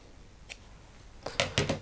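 Scissors cutting the edge off an organza ribbon for a fly-tying spinner, a faint single snip followed by a quick run of close, crisp snips.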